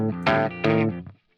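Electric guitar strings pressed down too hard so they fret instead of being muted, giving two loud sustained distorted chords, each lasting about a third of a second, then a short fading note, with no talk.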